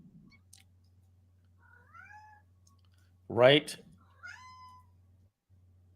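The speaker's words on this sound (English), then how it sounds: "That might be my cat." A house cat meows once, a short rising call close to the microphone, between bits of conversation from people talking on a call.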